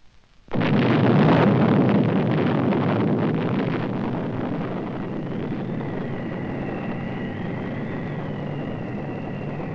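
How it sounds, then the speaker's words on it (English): A sudden massive nuclear explosion blast erupts after a brief quiet, followed by a long, roaring rumble that slowly fades yet lingers for several seconds. "When the sound of the explosion is heard"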